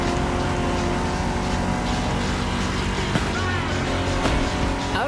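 A vintage car driven in the racing game The Crew Motorfest gives a steady, loud engine drone with a gritty, rumbling tone that holds throughout, with no talking.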